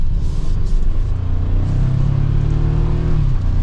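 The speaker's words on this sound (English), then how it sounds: "Just giving it a little bit of gas." A 2024 Toyota Tacoma TRD Sport accelerates from inside the cabin, its engine droning low and steady as the revs climb gradually, with road rumble underneath and no talking.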